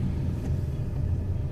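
Road traffic on a Coimbatore flyover makes a steady, close, low rumble of vehicle engines, continuous and unbroken, with no voices over it.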